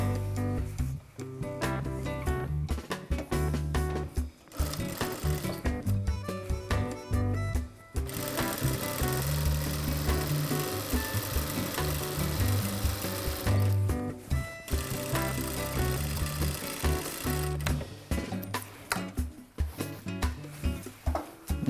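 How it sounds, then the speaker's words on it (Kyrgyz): Home sewing machine stitching necktie pieces together, a loud rapid mechanical whirring in bursts of several seconds with short pauses between runs, close up and with no talking. "Мына ушундай тигип алабыз."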